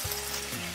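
Broccoli dropped into a hot pan of teriyaki chicken stir-fry, producing a brief burst of loud, dense sizzling and hissing that continues close and steady.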